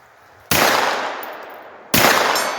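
Two loud rifle shots crack at a 75-yard target in wet conditions, spaced about a second and a half apart, each a sharp blast followed by a long decaying outdoor echo.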